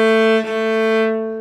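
A cello's open A string rings as A3 at 220 Hz, one octave below the 440 Hz reference, in a single rich sustained note with a slight dip partway through before tapering off, heard up close with no voices.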